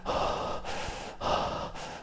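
Close, loud running breaths in a single phase, each in and out drawn as one smooth, long rush of air, with two full breath cycles in a steady rhythm and no talk.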